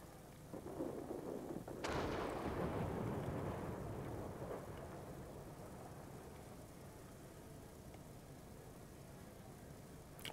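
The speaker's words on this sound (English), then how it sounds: "There's a heavy storm here." A heavy storm in a video game: a sharp thunderclap rolls into a long rumble over a steady wash of rain, faint and distant-sounding, with no voices.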